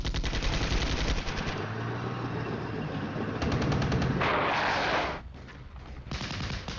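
Gunfire in the Soviet-side wargame Flashpoint Campaigns: Red Storm, with rapid machine-gun bursts and heavier reports layered over a steady battle din, fairly distant, briefly thinning near the end before resuming.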